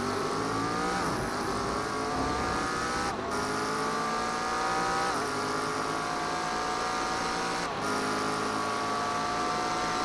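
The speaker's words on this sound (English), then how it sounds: "Look at the Porsche accelerating away from there." A Porsche race car in an iRacing sim race at Spa accelerates hard, its engine holding a loud, steady howl throughout with brief dips at the gear shifts.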